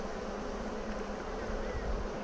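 Honey bees buzz steadily around an opened Flow Hive during a hive swap, a dense continuous insect drone close to the microphone with no talking.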